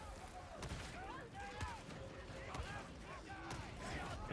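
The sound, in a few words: gunfire in the video game Darktide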